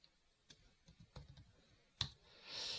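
Quiet, close computer mouse clicks and light keyboard taps arrive in an irregular series, ending with one sharper click and a faint hiss.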